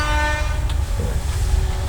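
A train passes close by with a loud, steady rumble and sustained horn-like tonal drone, filling the moment without pause.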